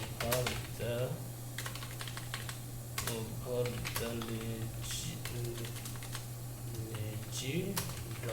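Fingers type steadily on a computer keyboard set on top of a laptop's keyboard, producing quick clusters of crisp key clicks beneath someone talking, with a constant low electrical hum in the background.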